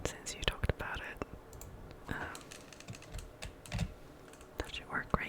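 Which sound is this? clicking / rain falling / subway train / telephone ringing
clicking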